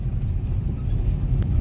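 Steady low road rumble of Pune city traffic heard from inside a vehicle, a continuous dull drone of car engines with no voices and no distinct horns standing out.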